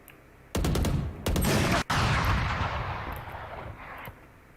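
Gunfire rings out in the Valorant video game, with loud sustained bursts of automatic fire broken by short gaps, then a long decaying tail of rapid shots fading away.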